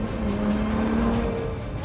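Ferrari Monza SP2 open-top engine note, a brief loud continuous roar with a steady pitch held then shifting, close and alone.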